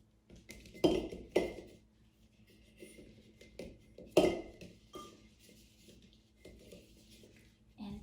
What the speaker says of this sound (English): I found this little blue bowl, and I'm gonna set it here with some of my red apples to match the dining room.